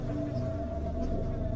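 A swarm of flies buzzes steadily and close in a wide room, a continuous droning hum with no voices over it.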